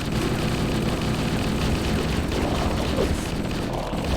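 Sustained assault rifle fire from Halo, a dense, continuous rattle of automatic shots running loud and steady throughout with no clear pauses, layered over chaotic combat noise during a fight against the Flood.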